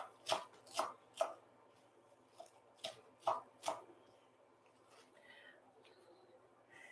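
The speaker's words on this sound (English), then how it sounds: "roughly chopping is fine for spinach" A knife chops roughly through spinach leaves on a board: a quick burst of soft, sharp taps in uneven clusters, then near silence.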